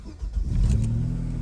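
A Vauxhall Vectra SRi V6 engine starts with a brief crank, then catches and settles into a steady, loud low idle rumble close by.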